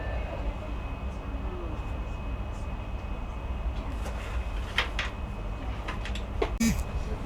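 An ÖBB Railjet New Gen (RJ 84) stands at Kufstein station with a steady low rolling rumble inside. Brief clicks and a short metallic squeal come near the end.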